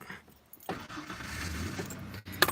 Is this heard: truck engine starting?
yes